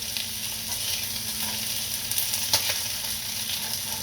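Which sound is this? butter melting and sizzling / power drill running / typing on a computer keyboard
butter melting and sizzling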